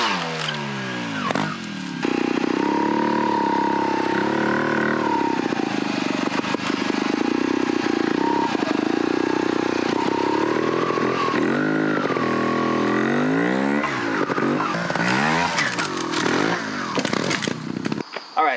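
A 2020 Vertigo R2 300cc trials motorcycle engine runs close by, idling and then revving up and down repeatedly in rising and falling sweeps, loud and continuous without speech.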